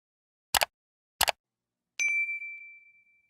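A bell sound effect: two sharp, brief clicks, then a single bright ding that rings out clearly and decays over about a second in silence.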